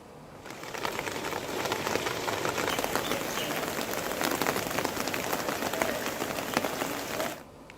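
Heavy monsoon rain pours steadily over a city, a dense, loud, unbroken hiss of drops on surfaces lasting several seconds before cutting off abruptly, with no voices.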